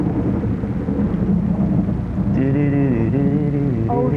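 A thunderstorm rumbles on steadily, with a loud continuous low roar of thunder and rain that fills the whole stretch, while tonal voices or music briefly rise over it near the end.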